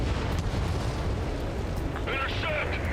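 Missile launch and explosions during an air combat mission in Ace Combat 7 on PS5, a dense continuous roar of rumbling blasts and jet noise with a brief rising whine near the end, loud and unbroken throughout.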